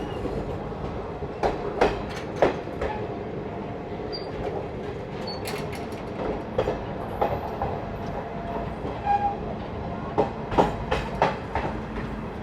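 A Garib Rath express train rolls slowly along, with steady rumbling and irregular clickety-clack wheel knocks over rail joints, heard from inside a coach.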